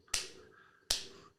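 Two crisp, sharp hand claps spaced under a second apart, close and clean with short decays and no talking.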